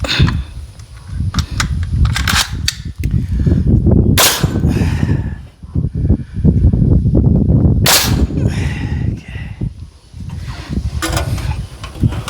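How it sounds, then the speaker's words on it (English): Pneumatic nail gun firing on a horse barn framing job, a few sharp cracks spaced seconds apart over constant rumbling noise at the building site. "This nail gun's gonna be the death of me."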